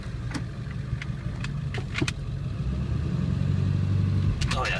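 A 1999 Ford F350 diesel 4x4 crew cab pickup creeping along in four-low, its steady low engine drone building slightly, with a few clicks and knocks over it and a voice at the end.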